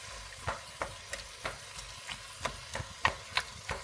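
Canned plum tomatoes being pressed and broken up in a pan for tomato and basil soup, a series of soft irregular squelches and stirring scrapes over a gentle background sizzle, close and fairly quiet.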